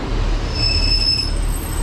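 Train wheels squeal on a rail journey to Leeds, a thin high-pitched screech rising over the loud, constant rumble of the moving carriage.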